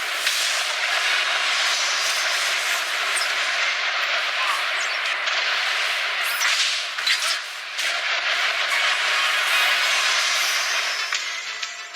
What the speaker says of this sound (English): The sound there of police storming the cafe where a gunman held an unknown number of hostages for 16 hours.